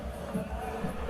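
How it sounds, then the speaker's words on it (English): Spectators at the Abuja 2020 WPPO world powerlifting championship murmur and react in a steady, diffuse crowd hubbub, fairly faint and distant, with soft swells of noise. "I hope you can hear the crowd reactions"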